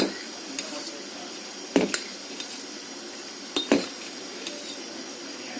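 Dosa batter stirred in a bowl, a spoon scraping and clinking against the sides in a few sharp knocks amid soft swishing, close and fairly quiet.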